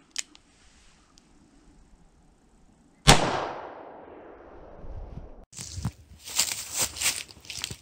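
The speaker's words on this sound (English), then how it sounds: "Next, I'm gonna be shooting 38 special lead hollow point." A single sharp, loud gunshot from a 38 Special lead hollow point round cracks out and decays into a ringing tail, followed by clattering handling noises.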